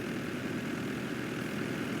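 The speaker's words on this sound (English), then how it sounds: "I've never seen a tractor like this before. Twin engines." Steady low droning rumble of an old twin-engine John Deere tractor in Farming Simulator 22, idling evenly and continuously with no talk.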